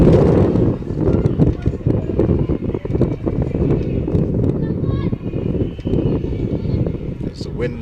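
Wind buffets the microphone at an evening women's premier division football match, a loud continuous low rumble with gusty surges, mixed with faint crowd and commentary.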